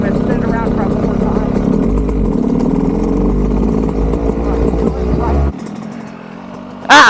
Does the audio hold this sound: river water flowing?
no